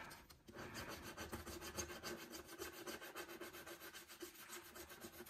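A scratch card is scratched with a continuous, quiet, rhythmic rasping close at hand for several seconds.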